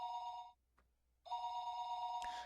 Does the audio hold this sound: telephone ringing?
yes